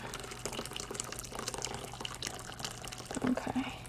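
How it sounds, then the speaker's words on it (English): Very hot water pours from a tap into a bowl, a continuous close splashing rush with a few brief drips and gurgles as the bowl fills. "So I'm just going to start by filling my bowl"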